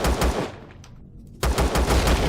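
Rapid machine-gun fire from a turret in the video game Empyrion on a moon mining base, loud dense bursts that break off briefly and then resume just as hard.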